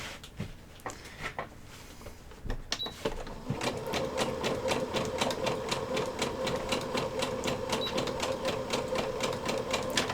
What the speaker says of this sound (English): I am using a zigzag stitch to make sure that this is actually stretchable